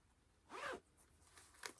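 A zipper on a handmade fabric bag lined with mustard star fabric is pulled in one quick, close zip, followed by fainter small rustles and a brief click.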